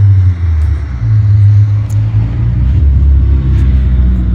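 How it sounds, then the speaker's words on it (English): A neighbor's newly acquired Mazda Miata arriving, a loud, steady, close engine rumble with a deep low drone that holds throughout, heard with no talk. "Oh, my neighbor's home with his new car."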